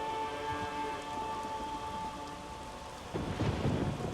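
A thunderstorm with steady rain in The Witcher 3, a continuous wash of rainfall under a low tonal drone, with a heavier rumble of thunder building near the end.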